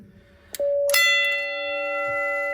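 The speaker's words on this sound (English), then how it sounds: "now you get just 1 strike of the gong" A single strike of a fire station alert gong triggered by an SA812 station alert controller, a loud metallic clang that rings on as a sustained, slowly fading tone, preceded by a faint click.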